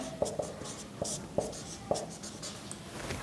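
Chalk or marker tapping and scratching on a board during a Class 10 maths lesson on similar triangles, a few sharp irregular strokes close by with no talk.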